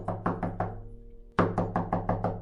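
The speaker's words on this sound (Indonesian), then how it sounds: "gadis kerudung merah mengetuk pintu" A door is knocked on in a storybook scene: a run of four firm raps, a brief pause, then five more quick, close, hollow knocks.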